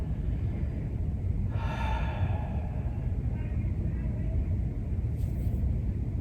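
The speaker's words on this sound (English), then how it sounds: "Take a big breath." During a stress-release pranayama yoga session, someone draws a single deep breath, a soft airy inhale lasting under a second over quiet background hiss, followed by faint stillness.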